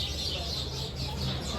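Birds squabble at a resort hotel's beach club during the Christmas season, giving dense, busy chirps and clucking calls close by, mixed with background voices.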